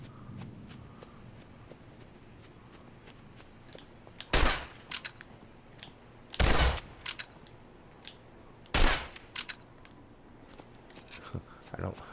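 Three loud rifle shots spaced a couple of seconds apart in the Open Country hunting video game, with soft footsteps and small clicks in between.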